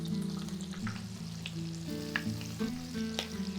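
Prawn toast frying in a hot pan gives a steady, close sizzle and crackle, with a continuous hiss broken by small pops and faint stirring or shifting sounds.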